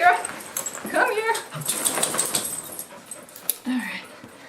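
Dogs Rascal and Shira whimper and whine near the mic while being hooked up to a harness for canicross, with a person talking over the fussing.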